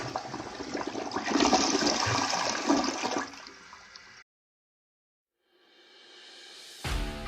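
A toilet flushes as a sound effect in a septic service radio ad: a loud rushing gush of water that drains away and cuts to silence, then a brief rising swirl of refill returns before a sharp thump ends it.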